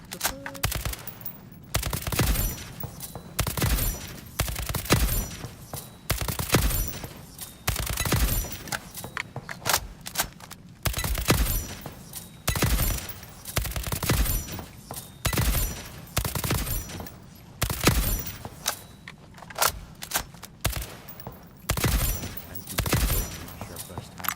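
Repeated bursts of automatic gunfire from guns in the video game ALARA Prime, loud sharp volleys coming in regular clusters with short pauses between them, and occasional speech under the shooting.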